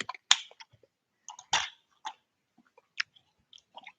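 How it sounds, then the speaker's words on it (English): Gum being chewed close to the mouth: soft, wet, irregular smacks and clicks with quiet gaps between them, and no talking. "let me chew some gum right now."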